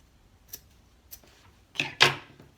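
Scissors snip through burlap fabric, a few faint isolated clicks followed by two louder, closer crunching cuts near the end, with no talking.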